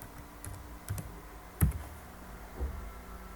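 A chat message typed on a computer keyboard, quiet scattered key clicks with a few sharper taps, close and sparse, with no talk.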